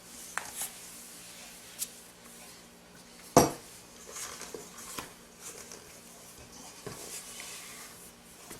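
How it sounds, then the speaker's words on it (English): Thick anise biscotti dough being worked out of a stand mixer bowl onto a floured countertop, with sporadic clinks and scrapes of metal against the bowl, one sharp clank standing out among quieter knocks and rustles. "I'm just going to take the dough out of the bowl and put it on our countertop here."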